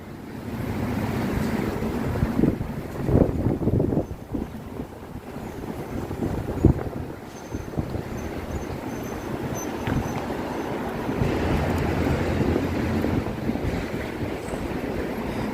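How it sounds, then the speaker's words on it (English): Gusty wind buffets the microphone on 3rd Avenue in Manhattan near Union Square, a loud rumbling roar that rises and falls in waves with faint street noise underneath. "the wind is starting to pick up"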